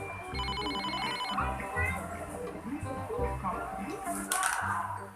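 A mobile phone rings indoors with a repeating electronic ringtone through much of the moment, while people talk and move around nearby.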